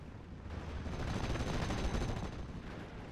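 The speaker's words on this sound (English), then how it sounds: "Stuart 5 finally engaging with its 30 cals" A Stuart tank fires its .30 caliber machine guns in the wartime strategy game Steel Division: Normandy 44, a dense, continuous rattle of gunfire that swells slightly and stays loud throughout, without speech.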